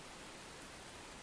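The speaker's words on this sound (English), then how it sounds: "I hope you appreciate the rain because my goodness, this game is raining a lot" Steady rain falling in the Enshrouded video game, a soft, even hiss of close, dense rainfall that runs through the whole stretch without pause, with no other sounds and no voices over it.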